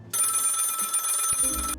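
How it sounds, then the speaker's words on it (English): A telephone rings in a video game, one continuous electronic bell trill lasting over a second and a half, clear and close, ending abruptly with a few soft low bumps after. "Phone is ringing."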